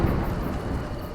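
Thunder in the video game A Juggler's Tale, a brief loud low rumble lasting about a second with a dense, noisy roll.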